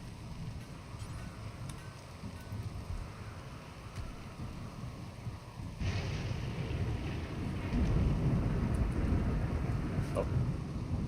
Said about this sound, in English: So lightning wants to take us on, apparently.